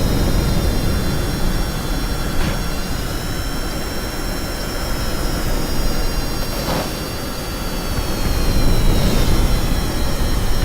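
Jet fighter engines roar in a video game dogfight, a loud continuous turbine rush with high whining tones that swell and fade as the aircraft maneuver, with no voices.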